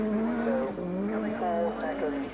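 Timo Salonen, the 1985 world champion, drives a rally car hard along a stage of the 1985 RAC Rally, its engine revving loudly with pitch changes through corners, with a commentator's voice over it.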